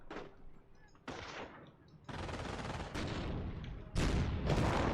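Machine gun bursts in a World War II strategy game battle, sharp repeated volleys of automatic fire with overlapping gunshots, growing louder and denser toward the end.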